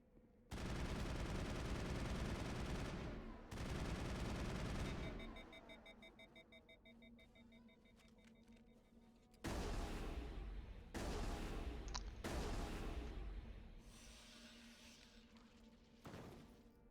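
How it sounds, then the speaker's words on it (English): Shotgun blasts in the Mass Effect video game, loud bursts of broadband gunfire in several separate volleys with quieter electronic game sounds and beeps between them. "God, this shotgun is terrible."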